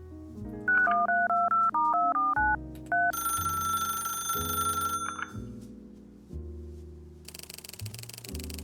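Touch-tone keypad beeps tap out a rapid run of paired tones while calling Camden bus tours, then a steady ringback tone hums, followed by a click and a hissy line connecting, with no voices.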